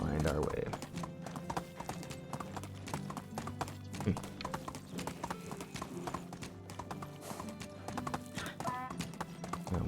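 Steady clip-clop of a donkey's hooves on a road in Medieval Dynasty, close and rhythmic throughout, with a brief whinny and someone talking over the hoofbeats.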